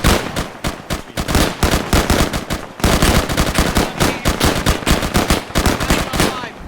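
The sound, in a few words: gunfire in video game Fog and Fire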